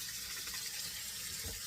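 Running tap water rinses starch off freshly dug garden potatoes, a quiet, steady splashing hiss that continues without a break.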